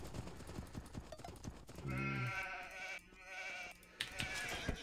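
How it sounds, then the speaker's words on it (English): Sheep in a video game bleating, a short wavering bleat in the middle of busy game sounds with clip-clopping hooves, fairly quiet. "No, those aren't the sheep I'm searching for."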